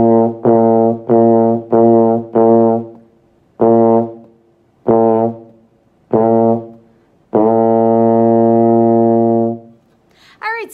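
Baritone horn playing a repeated B flat in short quarter-note bursts, grouped with rests between, then one long sustained note; close, loud and clear, with no talking.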